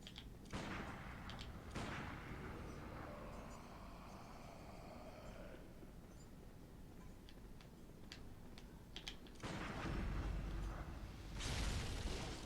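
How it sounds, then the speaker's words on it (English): In the video game Bloodborne, the contents of a bookshelf burst apart in a scattered series of sharp, faint cracks and thuds, with a louder, denser rumble of debris near the end. "I almost got killed by another shelf. Yeah, all their contents keep exploding on me"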